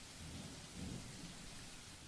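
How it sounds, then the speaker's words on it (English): Steady rain falls in a video game called The Letter, a constant hiss with low rumbling that swells briefly near the middle, like distant thunder, and no voices. "The rain that has started sometime during the night doesn't help the mood."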